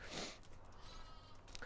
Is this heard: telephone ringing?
no